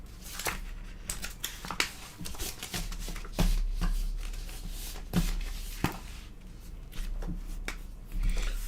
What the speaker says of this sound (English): So I'm going to go back here and erase this.